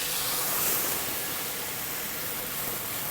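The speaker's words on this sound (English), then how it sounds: "We're gonna deglaze the pan." Cream sherry hits a hot pan slick with bacon fat, a steady loud sizzling hiss that holds evenly for a few seconds with no voices.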